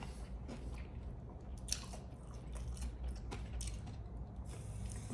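Someone bites into a piece of fried chicken from KFC or Jollibee, with close, quiet crunching of breading followed by soft wet chewing and squishy mouth sounds, no talk.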